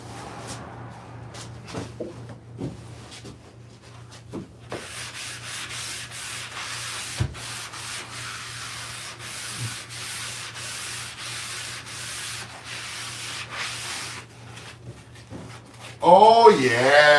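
Wooden doors being sanded by hand ahead of sealant work, a continuous scratchy rubbing that goes on for many seconds with brief knocks, ending in a louder burst of noise.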